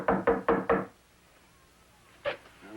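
Four quick, firm knocks on a door in a steady rhythm, close and loud, followed by a pause and then one more single rap, with no talking.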